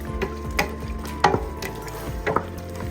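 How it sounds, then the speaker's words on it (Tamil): Eggplant cooking in oil with masala and tamarind water, a soft background sizzle broken by a few sharp stirring scrapes at irregular intervals, fairly quiet and close. "கத்திரிக்காய் நல்லா அழகாக எண்ணெயில் வதங்கி வருது போதும்"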